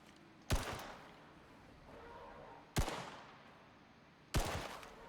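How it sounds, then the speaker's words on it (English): Three sharp gunshots ring out at a mammoth in the survival game Icarus, spaced a couple of seconds apart, each a loud crack with a short echoing tail over quiet outdoor ambience. "How smart is the mammoth gonna be if I like shoot at it from here?"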